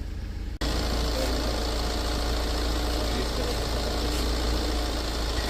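A Tata Safari Storm engine, under overhaul, idles steadily and continuously at close range after a brief silence at the start, with a deep, even rumble and no talking.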